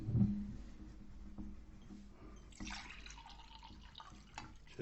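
Water poured into a glass or cup during a sit-down conversation indoors, a brief liquid splash and trickle near the middle, faint and close in a quiet room.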